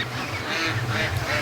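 A flock of free range ducks quacking together on a farm, a brief, close burst of overlapping nasal quacks at moderate loudness.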